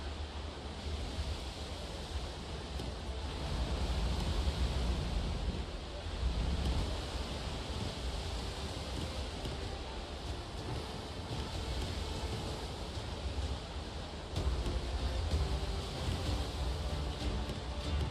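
Steady ocean surf and wash of water in the sailing game Windrose, a broad continuous rushing roar with gentle swells in level and no voices.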